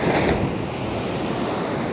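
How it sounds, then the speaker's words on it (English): Large ocean waves surge and wash continuously, with broadband surf roar and gusty wind buffeting the microphone throughout. "We have very big waves today, guys. It's huge waves."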